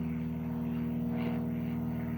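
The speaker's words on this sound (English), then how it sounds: "And then an airplane flies over." An airplane passes overhead in a flight path about two miles from an airport, a steady droning hum with a strong low tone that holds throughout at moderate distance.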